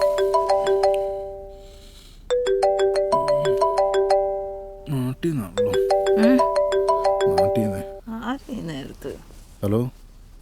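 A mobile phone ringtone plays in repeated melodic bursts while a call is placed in a Malayalam film scene, with people talking over and between the rings partway through.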